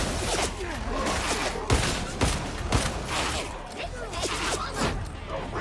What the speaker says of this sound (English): Arc rifle time.